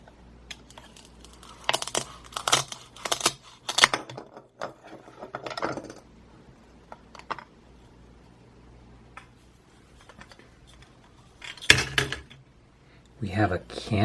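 A toy persimmon with a velcro join is cut apart with a toy knife, giving scattered sharp wooden clicks and taps in short clusters, with a louder burst near the end.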